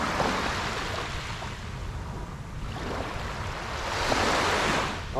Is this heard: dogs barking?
no